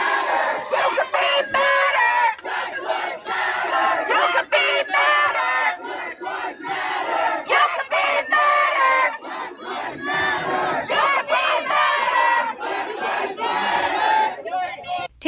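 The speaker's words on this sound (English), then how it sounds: "looking at the sheer volume of the crowd pressing into this dining space" A loud, dense crowd shouts and yells nonstop inside a diner during a controversial police takedown, voices overlapping in a chaotic roar with rhythmic bursts of chanting.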